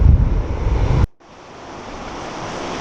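Rough surf and gusting wind at Pohoiki beach, a loud roaring wash with wind buffeting the microphone, cutting out briefly before the steady ocean rumble returns.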